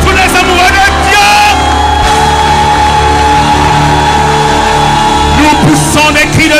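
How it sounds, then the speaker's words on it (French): A church congregation of God's lovers shouting and crying out loudly with joy in a dense, sustained roar of voices, joined by a long held shout and backed by steady sound. "Nous poussons des cris de joie à l'amoureux de nos vies."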